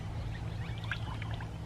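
Waste vegetable oil poured into a funnel, a steady close glugging pour with thick low rumble and faint trickling on top, continuous throughout.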